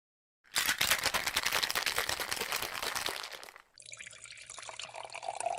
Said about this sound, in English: After a long day of shooting, Richard makes drinks at home.